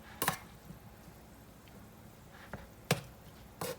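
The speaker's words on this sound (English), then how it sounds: "you could just, go ahead and chop up your ground beef a little bit finer" Cooked ground beef chopped finer in a pan, a few sharp separate knocks and scrapes spaced irregularly over a quiet background.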